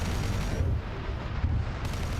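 A battle cannon round fired in the Ork mecha game Boneblades, a dense, rumbling boom that rolls on as a sustained low blast with a heavy, close presence.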